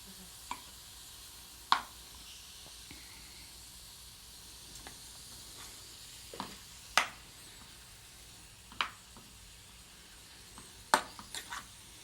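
Meat browns on all sides in bacon fat, giving a soft, steady sizzle and hiss. Sharp clicks and scrapes of turning or stirring break in every few seconds, close by, with no talking.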